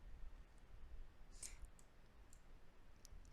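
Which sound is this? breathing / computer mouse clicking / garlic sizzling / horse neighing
computer mouse clicking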